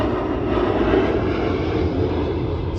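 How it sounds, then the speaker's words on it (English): A military jet from Nellis Air Force Base passes over northeast Las Vegas, its loud, steady engine roar filling the air throughout without any talk. "Oh, look at that jet, guys. Look at that. That's coming from Nellis"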